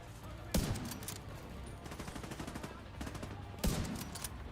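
Gunfire in The Division 2, with two sharp loud bursts near the start and end and a steady rattle of quieter shots between them, while a voice speaks faintly underneath.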